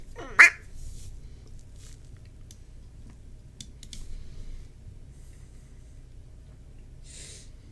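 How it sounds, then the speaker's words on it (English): A single nasal duck quack sound effect, sharp and fairly loud, sits at the start, followed by quiet background hum and a few faint clicks. "Nikki's redeemed single quack."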